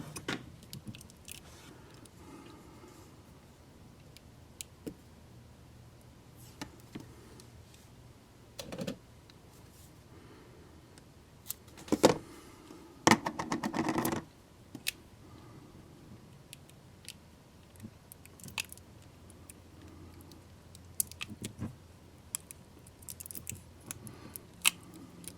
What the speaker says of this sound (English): Put another piece of tape across that.